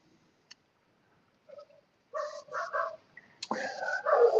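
Dogs bark on a mountainside in several short bursts of barks and yips that grow louder toward the end, with a few scattered faint sounds before them.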